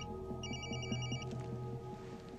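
A telephone rings with a trilling electronic bell burst lasting under a second, fairly faint over a low droning background with soft rhythmic tones.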